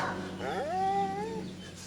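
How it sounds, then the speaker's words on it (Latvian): A dog lets out a single drawn-out, wavering whine that rises and then slowly falls, heard close and clear over a quiet indoor background during a conversation in Latvia, with no talking over it. "Suns piekrīt."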